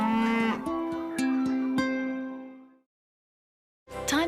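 Cattle moo in a long, drawn-out call that fades to silence, then a second moo starts at the end; the calls are loud and near, with no talk over them.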